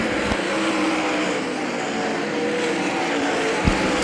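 Race cars roar around the oval at Hagerstown Speedway, a dense continuous engine drone from several machines at once, steady and loud throughout.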